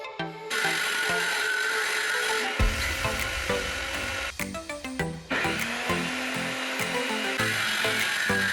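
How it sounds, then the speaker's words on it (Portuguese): Homemade bench table saw cutting MDF pieces: a steady, loud whining blade drone runs throughout, with the cut deepening into a rougher, lower grinding roar midway as the blade bites through the board, no voices. "Comecei por cortar as peças com a minha serra de bancada caseira."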